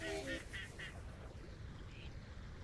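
Ducks in a duck pen in the Vintage Story video game give a quick run of four nasal quacks up front, then a fainter lone call later over a quiet background.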